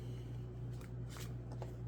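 Oracle deck cards are shuffled and handled in a few soft papery riffles and brushes, close and quiet over a low steady hum.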